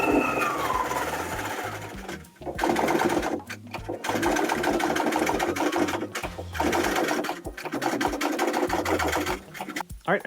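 A quilting machine stitches fabric over two layers of batting for a quilted truck hat panel, running in loud buzzing bursts with brief pauses between runs, close by, with talk over parts of it.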